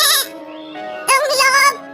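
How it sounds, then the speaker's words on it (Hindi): A goat bleats twice, in the kind of cartoon jungle tale told to children: a short, close, wavering cry, then a longer, louder one after a brief pause. "तभी वहाँ एक बकरी आती है"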